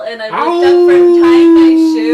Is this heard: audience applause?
no